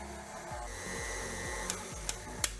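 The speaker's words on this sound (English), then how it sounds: "put the beater blade on the mixer and set it to stir and mix until that butter and sugar and peanut butter is nice and combined" Stand mixer with a beater blade creaming butter, sugar and peanut butter for soft peanut butter cookies: a steady whirring churn with a rhythmic thump at each pass of the beater, ending in a few sharp clicks.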